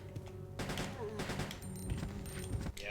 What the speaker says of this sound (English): Let's show off the custom handgun